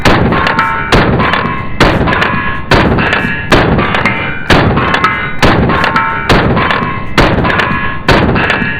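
Pistol shots from a custom 2011 and a Staccato DVCP fire in a steady rapid string, about fifteen loud sharp reports spaced roughly half a second apart, close and alone without speech.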